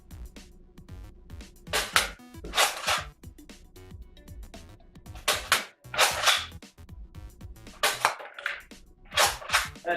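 A Bug Attack toy crossbow firing foam darts at a row of cans, giving several sharp snapping launches spaced a couple of seconds apart, with rattling and handling noises in between.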